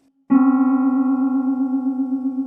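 A sustained keyboard cluster of four notes a quarter tone apart, entering abruptly after a faint single tone and holding steady with a harsh, beating buzz.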